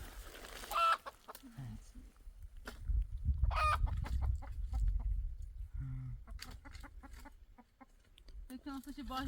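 Chickens cluck and a rooster calls in a farmyard, with clucks and short squawks scattered through the clip amid background voices and rustling.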